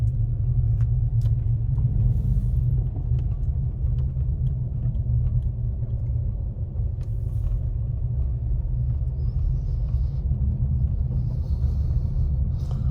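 A car drives along snowy back roads near Big Bear after a heavy storm. Loud, constant low tire and engine rumble runs throughout with faint ticks and clicks, and there is no talking.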